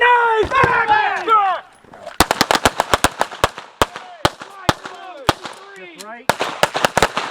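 Rapid pistol shots ring out close by during a tactical pistol drill at roughly 6 to 7 yards, sharp cracks in quick irregular strings after a brief shouted word, with a voice talking over the start.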